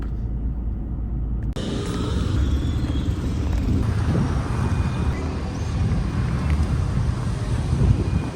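Steady road traffic in Florianópolis, a continuous broadband rumble of passing cars and heavier vehicles with wind buffeting the microphone, loud and sustained throughout after a brief quieter opening.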